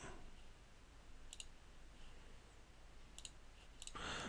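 Computer mouse clicks during 3ds Max modelling work, a few faint, sharp double clicks spaced apart over a quiet room background.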